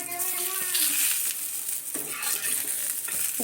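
Eggplant slices (begun bhaji) frying in a pan give a steady close sizzle, with scraping stirring strokes over it and a few faint clinks.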